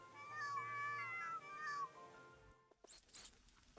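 A cat in a PC game meows in a long, wavering, close call, followed by a few short faint sounds after a brief silence.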